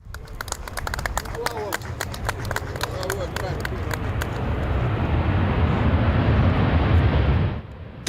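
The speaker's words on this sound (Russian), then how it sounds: "аэробус А-320 компания «Onur Air» впервые открывает шасси над аэропортом Грозного" Airbus A320 airliner of Onur Air landing at night at Grozny airport: a loud, steady broadband jet roar that swells and then cuts off near the end, overlaid by a run of sharp clicking transients early on.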